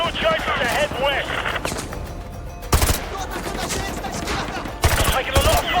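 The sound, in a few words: militia gunfire in Modern Warfare 2 Remastered video game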